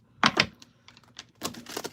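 A deck of tarot cards is shuffled in a few quick bursts of riffling and flicking, close and crisp, with short pauses between the clusters of card snaps.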